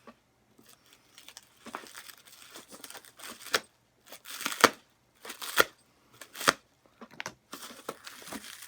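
Packaging from a parcel of vintage 16mm films is torn open and crumpled by hand, in irregular bursts of crinkling and ripping that are close and fairly loud, with quiet pauses between them.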